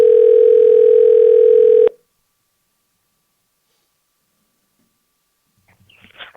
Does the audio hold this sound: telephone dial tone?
yes